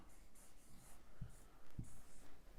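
Faint pen strokes writing letters on paper, quiet scratchy scribbles with a couple of soft taps, heard alone at low level without speech.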